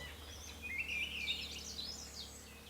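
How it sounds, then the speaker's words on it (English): Birds sing around a treehouse outdoors, with bright chirping and warbling phrases that overlap and carry on without a break against a quiet, low background hum. "The amount of birds singing is really quite incredible."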